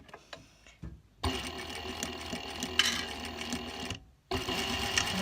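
A sewing machine stitches curtain weights in two close, rapid whirring runs separated by short pauses, its needle chattering in a fast even rhythm.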